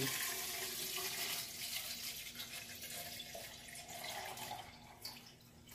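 Distilled water pours steadily into the water tank of a Nespresso VertuoLine coffee machine, a continuous close splashing trickle that runs for several seconds and eases slightly toward the end.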